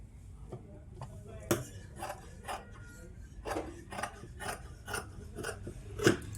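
Scissors snip neatly through folded fabric while stitching a Punjabi top: a series of crisp, separate cuts at an uneven pace, close and fairly quiet, with soft rustling between them.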